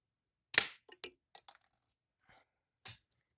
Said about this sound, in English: I shook it when I shot it just now, so that didn't hit. It hit the target, but it didn't stick